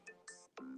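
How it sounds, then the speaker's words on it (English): A mobile phone rings faintly for an incoming call, a short electronic tone pattern of a few bright bursts close by with no talk. "my phone's going off because that's my college kid right now"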